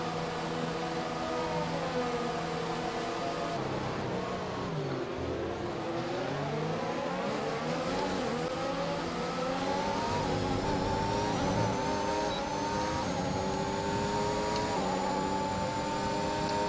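A Formula 1 car in the F1 2021 racing game, leaving the pits at Bahrain, accelerates hard with a rising, whining engine note that climbs through gear changes, loud and continuous with no talking.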